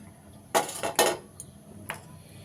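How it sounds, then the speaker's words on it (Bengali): Boiled peas tumble into a chopping bowl with a couple of sharp clattering knocks against the bowl, followed by lighter taps and clinks, close up in a quiet kitchen. "এইবার আমি একটা চপিং বোলের মধ্যে এটা নিয়ে নিচ্ছি।"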